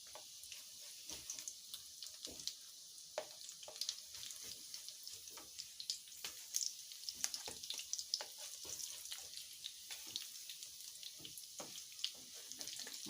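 Mackerel patties fry in a pan over turned-down heat, giving a steady close crackling sizzle with scattered sharper pops throughout and no talk.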